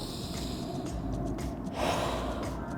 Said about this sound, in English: kind of deep breath in